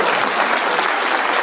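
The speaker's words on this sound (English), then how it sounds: "Please clap." Audience applause at a political campaign rally, a dense, even wash of clapping from a large crowd that holds steady throughout.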